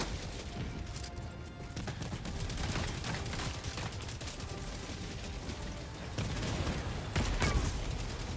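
Rapid gunfire from a weapon in the video game Helldivers 2, dense sustained bursts with crashing impacts and booms layered over a continuous battle din, loud and close throughout.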